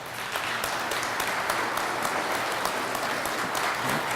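An audience claps steadily for a guest speaker, a Vietnam War veteran, at a school Veterans Day program, a dense sustained round of applause filling the room throughout without any talk.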